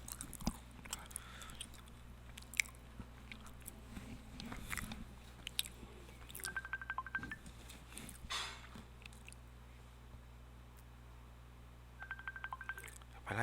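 Faint telephone keypad tones beep in two short clusters over a low background hum, mixed with scattered soft clicks and crunchy noises.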